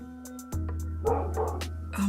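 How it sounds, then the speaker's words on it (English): A neighbor's dog barks loudly several times in quick succession, close and sharp, with a few yips mixed in and a steady hum underneath. "oh my god, my neighbor's dog is so loud"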